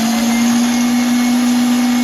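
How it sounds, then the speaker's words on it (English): An electric mixer runs at high speed through dry ingredients for stottie cake bread dough, giving a loud, constant motor whine and whir close by with no break and no speech. "plug the mixer in, that helps, and then just bring all the dry goods in together"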